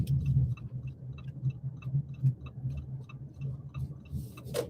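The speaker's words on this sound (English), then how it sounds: "Oh, that ticking is aggravating." A persistent ticking noise, regular faint clicks repeating about twice a second over a low background hum, with no talk.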